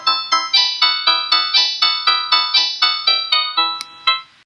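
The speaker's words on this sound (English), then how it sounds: "You can do it in this weird synthetic kind of sound." Bright synthetic tones play back from virtual music software as a quick run of about fourteen evenly spaced, plucky electronic notes, each decaying fast, ending on a final longer note; nobody speaks.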